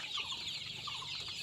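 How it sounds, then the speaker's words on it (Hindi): Sonali chickens on a poultry farm cluck repeatedly in a busy flock, short soft calls overlapping at moderate distance against a low background hum, with no talking. "ये हमारा सोनाली मुर्गी का फार्म है"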